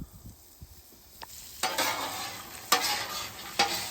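Butter melts and sizzles with pecans on a Blackstone griddle: a steady, bright frying hiss that swells as the butter hits, with occasional scraping stirs of the nuts and no voices.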